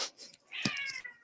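A cat named Toulouse gives a single short, close meow that rises and trails off, heard alone.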